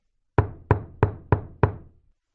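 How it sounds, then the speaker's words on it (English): Five sharp knocks on a wooden door, evenly spaced and close, each ringing briefly before the next, then quiet. "He knocked on the door."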